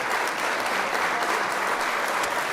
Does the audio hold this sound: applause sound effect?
yes